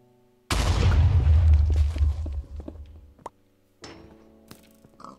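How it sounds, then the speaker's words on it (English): A loud booming blast opens a rumbling burst of Minecraft explosions that fades out, followed by a couple of smaller bangs and clatter. "It's so much explosion going on in one little place."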